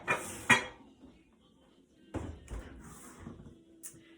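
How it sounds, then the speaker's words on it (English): A 2.5-quart Pampered Chef Rock Crock Everyday Pan, a covered baker holding turkey breast, clanks as it goes into the oven: two close metallic clatters, then quieter knocks and a final thud, like a rack or door moving. "Let me go ahead and pop this in my oven"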